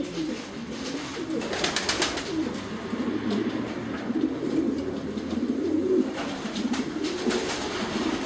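Young racing pigeons in a loft coo in a dense, continuous murmur, soft overlapping calls with occasional wing flutters and clatters, no talking.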